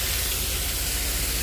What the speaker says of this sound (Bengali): ফুলকপি রান্না করছি